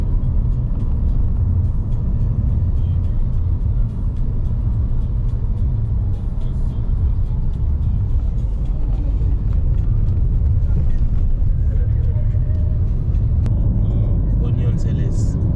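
A car drives along a road through Ghana's central region toward Cape Coast, with a steady, loud low engine and road rumble throughout, and people talk faintly under the noise.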